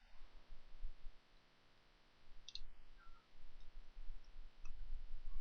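Computer mouse clicks, a few faint isolated clicks over a steady low hum in a quiet room.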